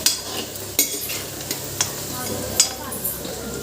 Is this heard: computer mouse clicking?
no